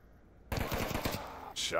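Rapid automatic gunfire in the VR shooter Onward, a close burst of rounds fired down range inside a multi-floor building with a stairwell, loud and sharp, followed by further noise.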